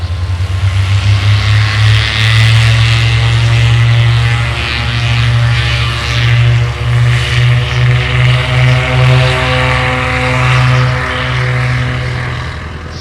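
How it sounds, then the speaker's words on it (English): A propeller aircraft taking off at night from runway 17, its engine a loud, close, steady droning roar with a pulsing beat that holds for the full stretch, with no voices. "The aircraft took off normally from runway 17 at 12:55 a.m. Central Standard Time"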